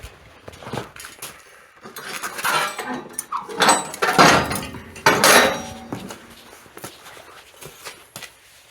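A metal snow plow wing for a Ford 8N tractor being flipped over, giving several loud clanks and scrapes of heavy steel in a burst of handling noise, then settling into quieter shuffling.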